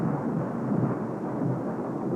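Thunder rolls during a storm as a sustained, dense low rumble with hissing rain-like noise, steady and fairly loud, with no voices.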